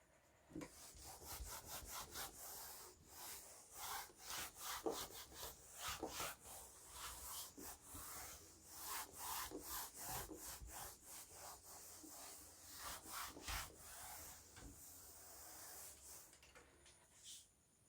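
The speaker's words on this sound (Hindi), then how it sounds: "इसको रब करके मिटा के।" Rubbing strokes erasing a board in a physics classroom, a long series of quick dry scrubbing swipes in uneven bursts, close and fairly quiet with no talk over them.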